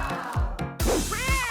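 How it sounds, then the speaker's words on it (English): A cat gives a few short meows in quick succession, close and moderately loud, with a rising drawn-out final call. "Good kitty."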